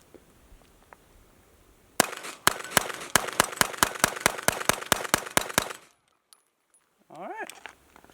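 Rapid string of about fifteen sharp gunshots from a Wilson Combat SFX9 3.25 compact pistol with factory compensator, firing 115 grain PMC 9mm rounds at an outdoor range, evenly paced, loud and close, followed by quiet.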